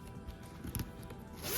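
A zipper is pulled along a pocket with gold-tone hardware on a purse, giving a short, close rasping zip with a few scratchy bursts.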